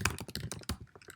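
Someone types an email address on a computer keyboard, giving a quick burst of close, crisp key clicks in an uneven rhythm that slows toward the end.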